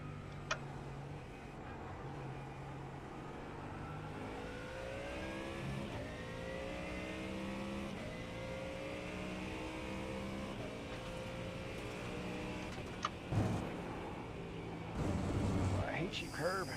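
A race car in a 24 Hours of Daytona racing video game accelerates out of the pit lane, its engine drone holding steady and rising through gear changes across the run, with people talking over it.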